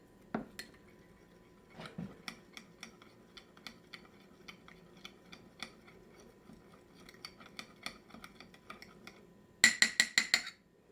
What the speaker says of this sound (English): I have some olive oil in here and a tablespoon of garlic. So I'm going to mix that together.